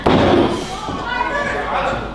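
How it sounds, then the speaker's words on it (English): A wrestler lands a knife edge chop to an opponent's chest, one sharp loud slap at the start that fades into crowd noise and commentary. "NPK unloading knife edge chop to the chest."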